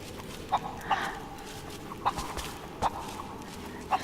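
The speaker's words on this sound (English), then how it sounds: "Look, I got a chicken." A chicken caught in the video game Rise of the Tomb Raider gives short, sharp clucks at uneven intervals, about five in four seconds, over a steady rustling game ambience.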